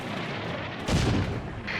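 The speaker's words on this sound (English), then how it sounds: "as soon as they start shooting, now they're taking some fire" Gunfire in the tank combat video game Combat Mission: a sudden loud burst of shots at about the midpoint cuts through a steady rumbling battlefield background, and a further burst of firing follows near the end.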